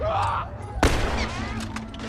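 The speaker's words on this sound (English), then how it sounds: "I'll be shooting some more infected here" Gunfire at infected in The Last of Us: a sharp, loud gunshot bursts in near the middle and echoes off, with quieter in-game ambience and rumble around it.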